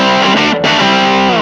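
Electric guitar played through a distortion pedal with the tone control turned up, giving a loud, thick, sustained distorted chord that rings on with a brief dip partway through, alone and close.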